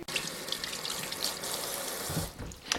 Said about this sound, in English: After a thorough washing, because they did come from the farm and they do grow in dirt, no doubt, I want to get rid of any foreign objects that would be in there and rinse it really, really well